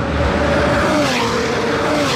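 Cars lapping a race track during a busy session, a Ferrari 296 and a Range Rover among them, give a continuous loud engine drone with a rising and falling pitch as they pass nearby.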